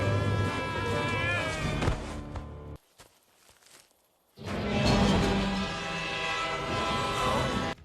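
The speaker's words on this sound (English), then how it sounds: "here is a man being chased by a train" A train in The Rift Trails video game chases a man: a loud horn and rumbling rail noise, then a short near-silent gap, then the clatter returns with footsteps and insect-like chatter.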